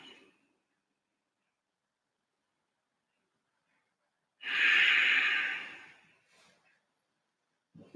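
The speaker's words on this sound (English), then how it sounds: "Steady breathing." Steady breathing during a yoga stretch: one long, close exhale, with faint breaths at the edges of an otherwise quiet stretch.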